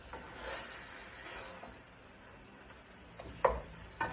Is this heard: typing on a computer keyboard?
no